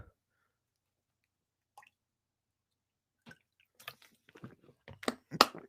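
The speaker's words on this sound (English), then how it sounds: "let me drink water for a little bit" Water being drunk, heard as quiet wet sips, swallows and small squishy mouth sounds close to the mic, sparse at first and then growing busier after a long near-silent stretch.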